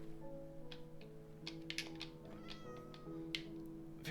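A cat meows in the video game Minecraft, a few short mews over soft game background tones and light clicking, with no talk.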